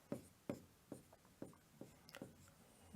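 Pen or chalk strokes on a board while writing crop names during an agriculture lesson, a series of sharp scratchy taps and short scrapes at irregular intervals, faint and close with no voice over them.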